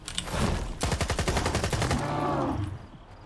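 Rapid bursts of automatic gunfire fired from the hip in the video game STALKER 2, a quick single shot followed by a long, evenly spaced stream of loud rounds that rings out and fades at the end.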